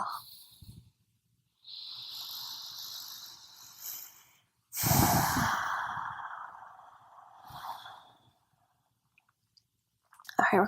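A long, deep breath pushed out during a yoga session: several airy, breathy exhalations close to the microphone with quiet gaps between them, the middle one loudest and longest.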